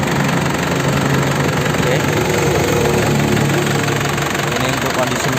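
A silver 2003 Isuzu Panther LS idles after warming up, its engine giving a constant, even rumble close to the listener. Someone briefly says a word over the running motor.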